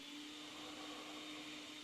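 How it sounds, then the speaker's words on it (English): A blender drones on in the background, a faint, steady whirring hum with a constant pitch and no breaks. "there's that blender again"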